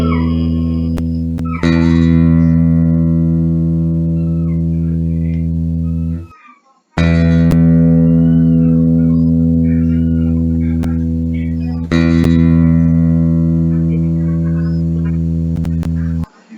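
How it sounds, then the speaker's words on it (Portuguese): A low-pitched, steady tone with a thick, buzzy timbre, used to demonstrate a bass sound in a physics lesson on waves. It sounds loud and sustained in three long stretches, with brief pauses between them and no talk. "Agora o som grave ou som baixo, ele sai mais grosso."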